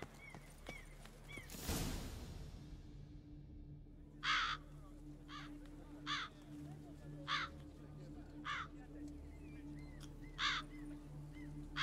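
Crows caw in a video game, a series of sharp harsh calls spaced every second or so over a steady low ambient drone, following a brief loud whoosh near the start, with a voice talking in between.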